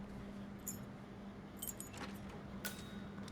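Keys jangling in Hitman 3, a few short metallic rattling bursts spaced apart over a quiet, steady room tone, close and fairly soft.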